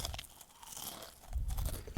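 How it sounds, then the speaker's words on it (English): Crisps crunching and being munched close up, a few dry crackling bites in quick succession with no talk. "Oh well, keep munching."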